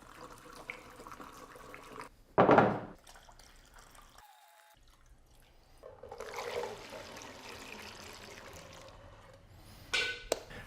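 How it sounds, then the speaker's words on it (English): Automatic transmission fluid is poured into a bottle for a 50-50 mix with acetone, in work on a 1986 Mercedes W124 300D. Irregular liquid glugs and splashes come in a few bursts, with quiet gaps between them. "I'm gonna pour all the automatic transmission fluid in here, then fill the bottle back up"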